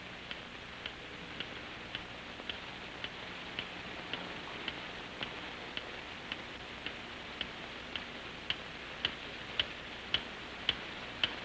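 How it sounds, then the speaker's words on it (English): A time bomb buried under rubble ticks steadily, with sharp, evenly spaced clicks about twice a second that carry on for the whole stretch, fairly faint over a soft hiss and growing slightly crisper toward the end. "It started ticking."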